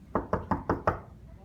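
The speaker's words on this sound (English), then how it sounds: "before you walk, you gotta knock" Five evenly spaced knuckle raps on an office door, firm and close, each a dull wooden thud, followed by quiet room tone.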